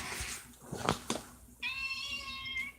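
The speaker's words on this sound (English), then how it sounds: "Skinny is a male cat" A male cat named Skinny, a studio mascot, meows once clearly and close by, a drawn-out tonal cry after a few brief rustling sounds, with no talking over it.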